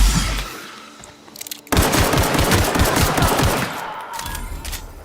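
Rapid bursts of gunfire crackle through a firefight in The Outer Worlds, starting after a brief lull and then hammering on loudly and densely before tapering off.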